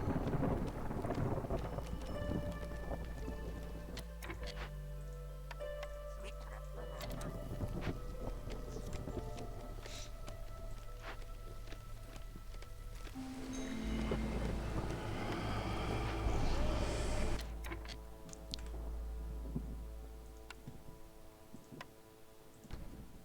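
Stormy game ambience during a colony-building session, with low rumbling thunder, steady rain wash and a ticking rhythm underneath, swelling midway with a louder rolling burst before easing off; no voices.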